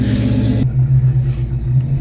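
A Dodge Charger hot rod that has sat unused for about two months idles with a deep, steady low rumble, loud and close, a brief brighter burst at the start before the engine settles into a continuous throb.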